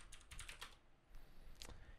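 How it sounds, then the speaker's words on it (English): Rapid clusters of close, quiet keystrokes on a computer keyboard as words are typed into a search bar, a short pause, then another quick burst of taps, with no talk. "Type Unga Bunga into the search bar."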